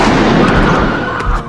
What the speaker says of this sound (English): Oh my God, you shot him.